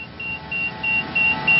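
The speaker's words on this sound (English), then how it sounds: "Sonar alerts installed above the pilot and co-pilot's heads will sound whenever power is being applied to the pitch trim actuator" Sonalert pitch trim warning in an SA227 Metro cockpit, a high steady beep repeating about five times in even pulses over low cockpit hum.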